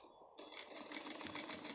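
A sewing machine stitches a shirt seam, starting abruptly after a brief pause and running in a fast, even mechanical whir with regular pulsing beats, close by and fairly quiet.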